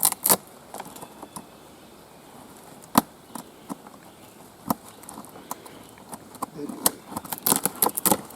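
Rough outer bark being peeled by hand from harvested birch, giving sharp scattered cracks and snaps at irregular intervals over a soft outdoor background, close and fairly loud.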